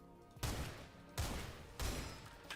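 A railgun in the video game SULFUR fires three heavy blasts about 0.7 seconds apart, each a sudden loud burst trailing into a short rumbling decay, with no talking.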